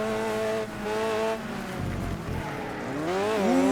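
Tires squeal and skid as a car slides around in the racing video game Next Car Game, the engine whining and rising in pitch over a steady rumble, with no talking.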